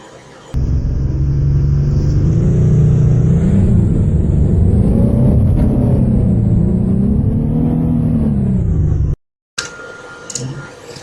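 A car pulls away in a loud, continuous rumbling engine sound that swells and wavers for about nine seconds, then cuts off abruptly before quieter background noises follow.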